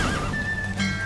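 A horse in The Witcher 3 gives a short, loud, high whinny that rises and wavers over a steady galloping background.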